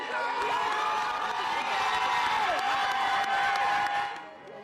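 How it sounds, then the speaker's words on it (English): A crowd cheers and whoops in excitement at an election-night victory, a dense, steady roar of voices with shouts on top, loud and close throughout, easing off at the very end. "that was just the first cheer of excitement"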